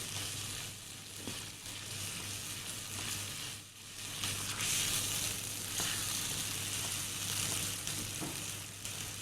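Dahi aloo, potatoes in yogurt, sizzling in a pan over medium to low heat while a spoon keeps stirring, a continuous close frying hiss with occasional scraping, no talk.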